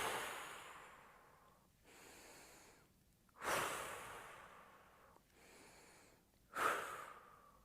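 Slow, deliberate breaths during a mindfulness breathing exercise for children, long airy inhales and exhales in a steady cycle, with two sharper, louder intakes standing out, close and alone.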